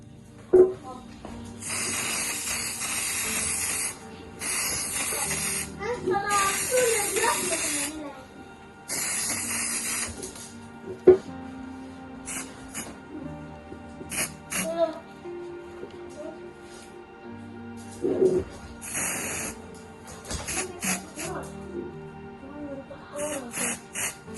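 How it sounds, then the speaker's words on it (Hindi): Spray paint hisses from an aerosol can onto an empty glass bottle in repeated loud bursts of a second or two each, with short gaps and some handling clatter between them. "इस तरह इस पे स्प्रे हो गया।"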